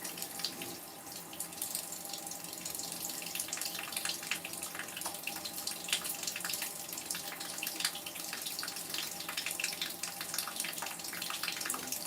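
A household tap runs water in a steady, unbroken stream for the whole stretch, fairly quiet and even, with no voices over it.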